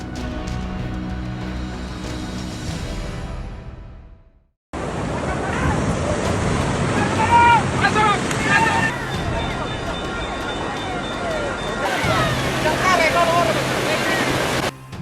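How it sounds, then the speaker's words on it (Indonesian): Floodwater from a flash flood rushes loudly and continuously in a broad roaring wash, with voices shouting and talking over it. "Banjir bandang."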